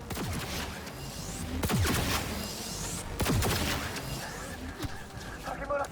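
Rapid bursts of gunfire during an attack in Cyberpunk 2077's Arasaka storyline crack out in several loud volleys over a dense game soundscape, with voices present.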